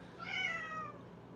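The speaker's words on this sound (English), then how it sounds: "The cute little cat is complaining over there." A small cat gives a single drawn-out meow that rises and then falls, heard indoors at moderate distance against quiet room tone.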